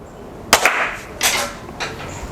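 A Hatsan Alpha airgun fires one sharp, loud crack followed by two similar impulsive snaps, each close and distinct against a quiet background, with no talking.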